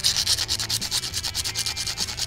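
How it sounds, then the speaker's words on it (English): A small scale model part rubbed back and forth on sandpaper to flatten it, a close, rhythmic rasping with about a dozen quick even strokes, no talking over it. "just a little bit of sandpaper just to sand that a little flatter"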